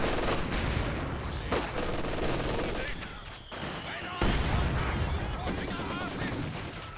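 A ZiS artillery barrage in a real-time strategy war game, rapid overlapping gunfire and heavy blasts in dense bursts, with brief drops between volleys and a renewed loud impact partway through, under a voice talking.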